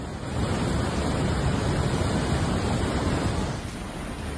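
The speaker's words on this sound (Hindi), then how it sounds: "यहां नदी में इतना उफान है कि देखने वालों का दिल बैठ जाए" A flooded river in Chamba rushing in spate, a loud, steady roar of churning water filling the whole clip without a break, close and unbroken with no voices.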